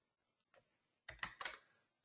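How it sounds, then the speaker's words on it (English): Keys tapped on a computer keyboard: one soft click, a pause, then a quick cluster of a few sharper keystrokes, close and quiet with no voices. "Right, so I'm typing it in the chat box."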